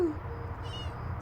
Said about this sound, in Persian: سیبیل گربه جدید حیاتمون